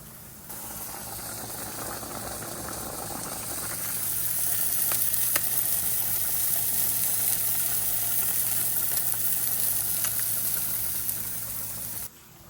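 Dinner sizzles steadily in a pan, a continuous frying hiss that grows slightly louder partway through, with faint clicks of stirring and a low steady hum beneath, no voices.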